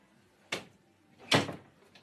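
A door moved twice in a house, two short sharp knocks or bumps less than a second apart, close and moderately loud against a quiet room with no talking.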